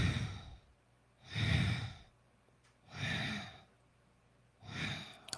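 Slow, audible breaths during a breathing exercise, three long airy exhales close to the mic, evenly spaced with quiet pauses between them.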